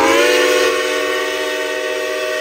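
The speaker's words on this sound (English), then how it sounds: "My daughter says that they are a slow train that goes nowhere." A slow geared steam locomotive in West Virginia sounds its whistle, a loud sustained multi-tone chime that holds steady and then eases slightly in volume, with no talking over it.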